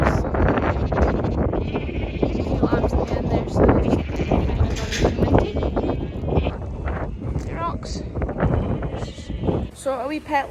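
Pet lambs bleat over and over, loud and close, with wind buffeting the microphone throughout.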